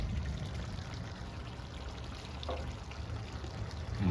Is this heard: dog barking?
no